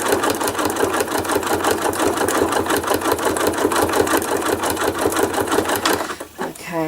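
A sewing machine stitches thread art in a fast, steady, loud mechanical chatter that runs continuously, then slows and stops near the end.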